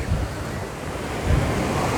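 Small ocean waves wash in at Hermosa Beach as a steady, loud surf rush mixed with wind buffeting the microphone.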